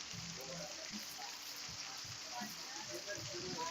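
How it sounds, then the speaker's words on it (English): Steady heavy rain pours outdoors as a constant close hiss of drops on surfaces, with faint low murmurs underneath. "I'm going to sit down here in the pouring rain"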